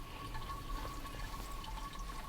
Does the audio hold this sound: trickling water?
yes